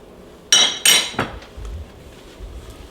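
A baking dish of pulled pork enchiladas with salsa verde clanks against metal oven racks as it goes back into the oven, two sharp clinks and a lighter rattle followed by soft low thuds, close and alone.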